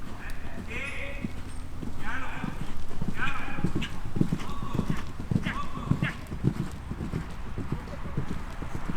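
Horse galloping in a show-jumping lesson in an arena, steady rhythmic hoofbeats close by with an occasional whinny, while an instructor's voice calls out over the footfalls.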